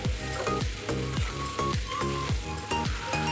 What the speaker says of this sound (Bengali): এইভাবে নাড়াচাড়া করে কয়েক মিনিট আমটাকে ভেজে নিতে হবে।